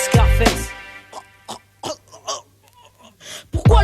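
A single person coughs sharply a few times close up, followed by a few quieter throat-clearing bursts, with a low steady hum underneath and no speech.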